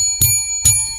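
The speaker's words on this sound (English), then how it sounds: "Did you guys see I have my little thank you bell?" Two bright rings of a small hand-held thank-you bell, a sharp strike and a second one about half a second later, each leaving a shimmering metallic ring that sustains through the gap.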